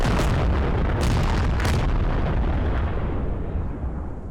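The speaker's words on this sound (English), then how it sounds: "we got another wave of artillery coming in" Artillery rounds explode in the video game MARS: Scarlet Storm Rising. A loud, continuous rumble of overlapping blasts carries a few sharper bursts near the start, then slowly fades toward the end.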